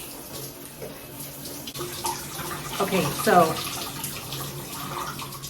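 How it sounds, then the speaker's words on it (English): Cold water running from a bathroom tap while a face is rinsed, a steady moderate splash and flow with a few brighter splashes midway, a voice speaking briefly at the start. "the water that I just turned on, I'm trying to make it the coldest that I can possibly take"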